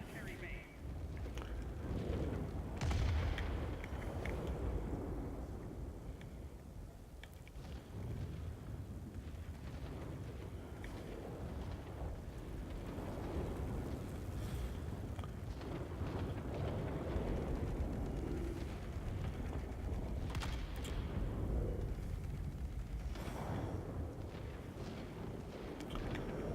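Rocket strikes and explosions thunder through a World of Warplanes air battle around a military complex, a continuous barrage of booms and gunfire-like bursts rolling under steady engine drone for the whole stretch, with someone talking over it.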